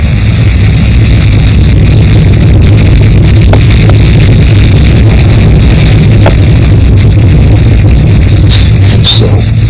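Saturn V rocket engines roaring through the Apollo 8 launch: a loud, unbroken low rumble with a steady roar that fills the whole stretch without easing.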